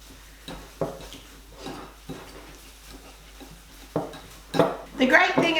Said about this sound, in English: I'm just going to pretty much mash it all together